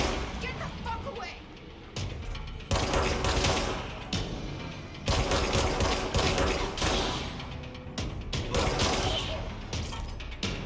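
Rapid gunfire from the Service Weapon in the video game Control comes in dense, loud bursts with short pauses between them, layered over game effects and talking voices.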